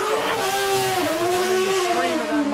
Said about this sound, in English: scream of that Mazda engine as he leaves